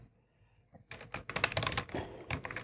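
Fast clattering keystrokes on a computer keyboard while JavaScript code is typed, starting after a near-silent pause and continuing as a dense, close run of clicks.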